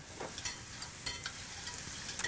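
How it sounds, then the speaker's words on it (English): Butter being whisked in a pan taken off the heat, a soft continuous sizzle with light metallic scraping strokes, steady and close, no voices. "I'm going to take it off the fire to whisk it a little bit"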